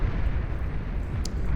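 A commando's shoulder-mounted blaster cannon fires in the strategy game Beyond All Reason, giving a dense, loud rumbling blast that continues without a break.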